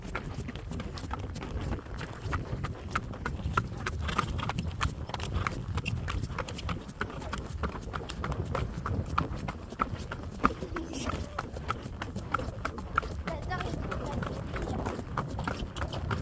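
Horses trotting during a cross-country riding warm-up, hooves clip-clopping continuously under wind noise, riders talking nearby.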